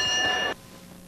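A boxing ring bell rings out to end a round in a bout between Willy Wise and Michael Hooper, a single bright metallic clang that cuts off after half a second, leaving low arena murmur.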